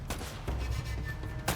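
Blind-fire gunshots from cover in Uncharted: Drake's Fortune crack out in a short burst of sharp, loud reports, a few shots fired in quick succession with no talking.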